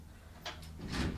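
A door being closed in a quiet room during a morning meditation gathering, with a soft slide followed by a fuller thud near the end, close and fairly faint.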